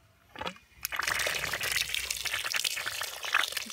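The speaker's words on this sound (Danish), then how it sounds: "vander sandet" Water poured and splashed onto green-coloured sand for making sand candles, a steady gushing, trickling flow close by that starts after a brief knock and runs continuously to the end.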